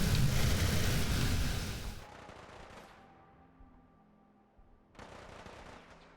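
Weapon fire in the Fallout 4 video game during a battle at Bunker Hill: a dense, loud burst of rapid shots for about two seconds, then a quieter ringing tail and a second, softer burst near the end, with no talk.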